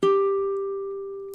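A single plucked baritone ukulele note on the 8th fret of the second string, struck once and left to sustain and slowly decay, close and alone.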